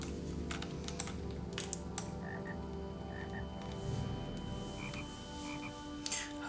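A frog croaking in the Lord of the Rings Online game, with short repeated croaks at a moderate distance over steady game ambience and light clicking, and no voices.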